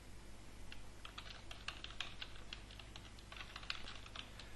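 Fast, steady typing on a computer keyboard, with many small clicking keystrokes in an irregular rhythm over a constant low hum, fairly quiet and close, with no voices.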